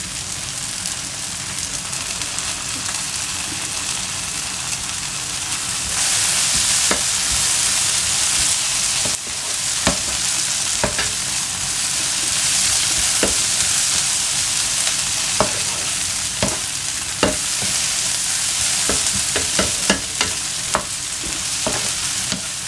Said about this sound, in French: on va cuire les oignons jusqu'à ce qu'elles soient bien cuites